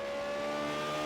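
A V8 Supercar in a racing video game on the Indianapolis Road Course passes with a steady engine drone, holding a sustained tonal pitch over a short, fairly faint stretch.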